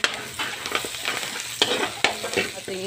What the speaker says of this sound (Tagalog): lagay ko yung bawang at saka sibuyas. Ating halo-haloin lang ng konti para maluto yung lamas natin.